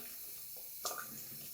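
Steel razor blank with a mirror polish rinsed under running water, a short soft splash of tap water with a brief brighter gush in the middle, close and faint.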